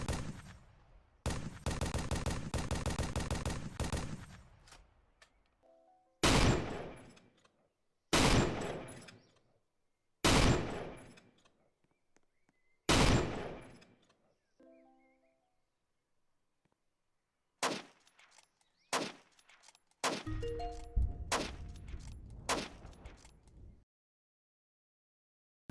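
Bursts of weapon fire from guns in the Roblox Dunkirk WW2 game: a long rapid automatic volley, then a series of single loud shots spaced a few seconds apart, ending in another clattering burst, with silence between.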